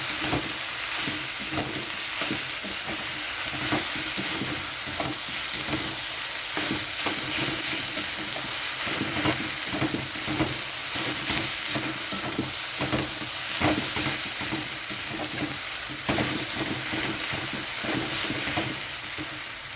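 Drumstick leaves frying in a pan with potato and shrimp, a steady loud sizzle broken by the scrape and clatter of stirring, continuing throughout with no voices.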